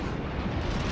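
Armor-piercing shells fire from a warship's guns at close range in a World of Warships-style naval game, a dense, continuous rumbling roar of blasts with no distinct separate shots.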